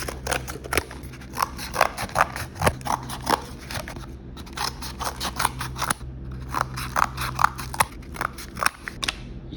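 Scissors cut through cardboard in a steady rhythm of crisp, close snips, two long runs split by a brief pause. No one speaks.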